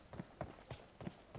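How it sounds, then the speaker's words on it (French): Footsteps in PUBG Mobile's Metro Royale map come as a quiet, steady run of evenly spaced soft thuds, about five steps in quick rhythm. "il y a des bruits de pas"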